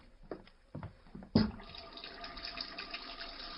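Water gushes from a sink tap in a radio drama, starting with a sudden splash after a few faint clinks and then running steadily and fairly close.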